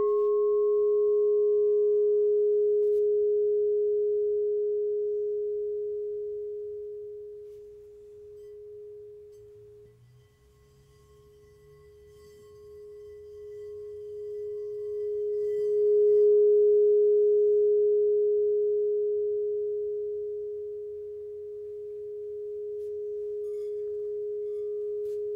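A 9-inch crystal singing bowl tuned to G sharp sounds alone, ringing as a pure, sustained tone that swells and fades gently over about twenty-five seconds, with a faint higher overtone only at the start.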